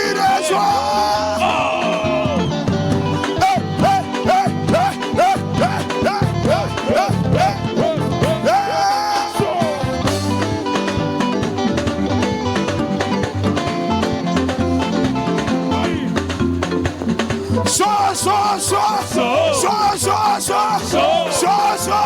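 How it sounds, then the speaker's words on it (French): A crowd of people yell and cheer with cries of joy over loud, continuous music, with whoops and shouts rising repeatedly across the stretch. "Le cri de joie"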